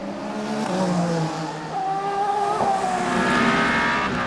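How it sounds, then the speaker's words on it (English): An Aston Martin Valkyrie hypercar races at the 6 Hours of Imola endurance event, its engine screaming with a high, rising and falling note that stays loud and close. "Both Aston Martin Valkyries still running as the team continue the development of this newest of the hypercars"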